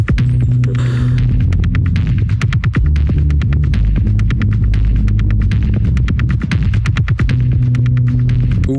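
A deep, resonant bass tone throbs through a music track, loud and sustained, over a steady pulse of sharp rhythmic clicks and percussive hits, with no voices.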